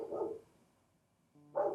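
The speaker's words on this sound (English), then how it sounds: "I apologize ahead of time for the dog barking next door." A neighbour's dog barks next door, two separate short barks with a quiet gap between them, moderately loud and heard alone without any talk.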